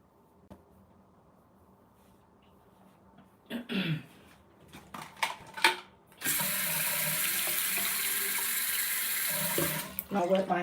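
Tap water gushes steadily into a sink while hair is wetted, a loud continuous hiss beginning partway through after some throat clearing and small handling noises, running for several seconds before brief clattering at the end.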